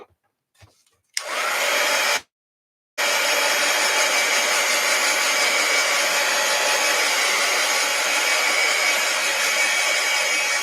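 A hair dryer blows over a freshly painted journal cover. It switches on with a loud steady roar, cuts out briefly, then runs continuously and close.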